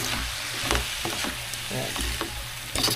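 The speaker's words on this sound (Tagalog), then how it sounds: "Tapos haluin mo lang ulit." Sisig stirred again in a hot pan, a continuous close sizzle broken by repeated scraping and knocking strokes of the spatula, with no voices.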